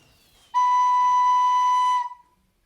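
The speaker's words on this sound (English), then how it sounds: "If you lift the middle finger again, this will give you the note B." A single steady recorder note B, pure and breathy, held for about one and a half seconds before stopping cleanly.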